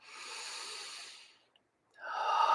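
Slow, deep breaths during a guided breathing exercise: a long, airy exhale fades to a brief silence, then a strong inhale swells up, close and alone.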